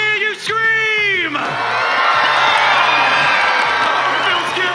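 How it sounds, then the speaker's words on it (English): A large live audience on an esports show floor in North Carolina at a Fortnite tournament screams and cheers loudly and continuously, with a sustained roar of whoops and shouts filling the space after a brief announcer's voice. "Audience, North Carolina, let the world hear you scream."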